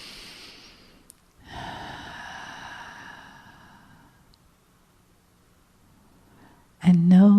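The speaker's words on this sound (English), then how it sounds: "And take another breath." One deep, slow breath drawn in and released close to the microphone, a soft airy inhale swelling then fading into quiet, followed by a sudden louder burst at the end.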